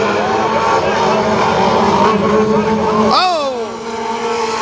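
Race cars accelerating at Kil Kare Speedway out of turn 4, a loud roaring engine drone with rising pitch, then a car sweeping close past with a sharp whining pitch bend while a voice exclaims briefly.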